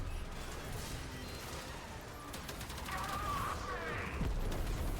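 The Talons weapon fires in the video game Warframe, with sharp, crackling bursts and metallic clatter over a dense, noisy game soundscape, loud and continuous.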